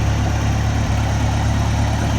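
An old tractor runs steadily while pulling a bush hog mower through weedy pasture, giving a close, continuous low engine drone with a constant rumbling hum and no talking.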